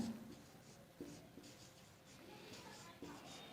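Chalk or marker scratching across a board during a Hindi grammar lesson, a series of short strokes with small taps, faint beneath a teacher's voice.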